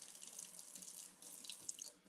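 Hot water runs steadily from a kitchen tap, a continuous close hiss and splash of flow filling a sink with small drips over it, with no voices.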